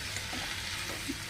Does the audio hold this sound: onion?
yes